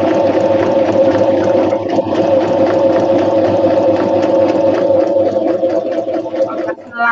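A home sewing machine runs steadily with a constant motor hum and fast rhythmic stitching clatter throughout, loud and close, slowing briefly near the end.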